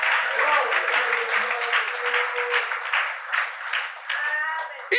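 Church congregation cheering and applauding to praise the Lord, steady clapping mixed with shouts and voices, loud and continuous, ending abruptly.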